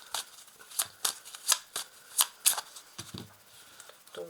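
Tarot cards shuffled by hand in a quiet room, giving a run of crisp riffling bursts about every half second, fairly close and alone, ending with a faint soft rustle.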